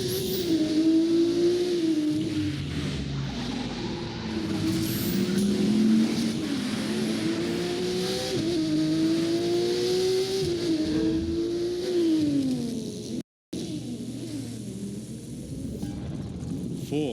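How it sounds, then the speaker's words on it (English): Street racing cars in a video game roar through a city, engines revving and climbing through gear shifts in repeated rising sweeps, loud and close with tire noise, broken by a brief silent cut near the end. "street racers prove their skills, skidding on rooftops, burning asphalt, and tuning their rides"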